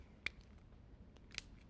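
Scissors snip twice through paper along a traced template, two crisp, separate cuts against a quiet room.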